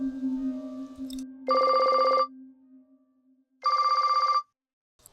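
A telephone rings back twice on an outgoing call, two regular electronic ring bursts separated by a pause, with a low hum beforehand.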